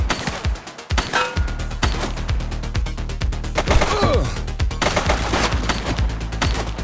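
Sustained automatic fire rattles nearly without pause in a gunfight from The Precinct video game, loud close bursts layered over scattered single shots and a few heavy thuds.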